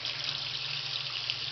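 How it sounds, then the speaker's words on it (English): Tap water runs steadily from a faucet during an aquarium water change, a constant bright hissing rush with no pauses. "since the water's on and flowing"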